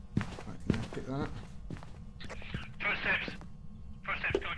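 In Phasmophobia, footsteps walk toward the camera as a handful of light, close steps under steady background hiss, with people talking over them.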